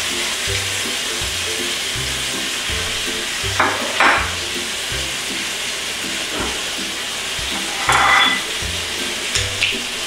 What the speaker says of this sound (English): gonna let that pork chop finish searing